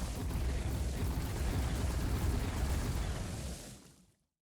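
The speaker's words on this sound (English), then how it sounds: "those are all mega brims that are firing off, by the way" Mega Brimstone lasers firing in The Binding of Isaac roar as a loud, continuous, booming blast that holds steady for a few seconds before fading out to silence.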